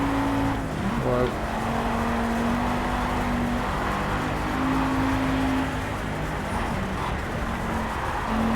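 Race car engine in the Project Cars driving game, played in VR, a steady loud droning hum with shifting pitch as gears change, continuous throughout with no talk over it.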